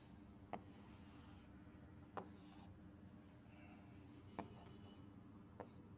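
Marker strokes on a classroom board during a physics lesson, four or five brief scratchy squeaks spaced a second or two apart over quiet room tone.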